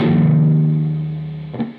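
A single sustained, distorted electric guitar note at the 9th fret of the A string wavers with vibrato, slowly fading, followed by a brief pluck at the end.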